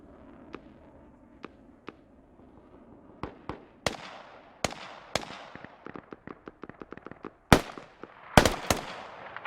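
Gunfire in a competitive online shooter match, scattered sharp cracks that start sparse and build into quicker volleys, with a few loud close shots among fainter distant ones.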